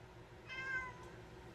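A pet cat gives a single short, quiet meow in a calm indoor room with a low background hum.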